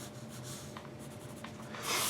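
Soft, continuous scratching of a marker dragged across paper while sketching a head in profile, quiet and close, with brief strokes and a louder rub at the very end.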